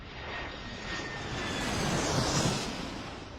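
An airplane sits on the tarmac at Moncton airport, its engines giving a steady broad roar that swells slightly louder toward the end, with no voices.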